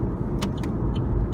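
Car driving on the road, a steady low rumble of engine and tyre noise with a couple of faint brief clicks, continuous throughout.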